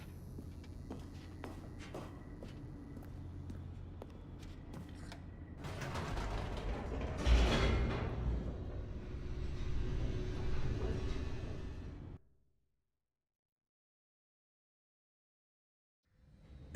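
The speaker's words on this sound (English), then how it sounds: "The elevator raced downward," Elevator descending in The Stanley Parable, a creaking, grinding mechanical rumble that swells into a loud clanking surge, then cuts off abruptly to silence.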